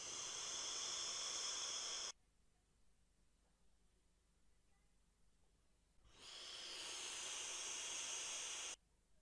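Eleaf iStick Nowos e-cigarette kit set to 50 watts, direct-to-lung draws giving two long, steady hissing bursts of vapour, each about two to three seconds, with near-silence between them.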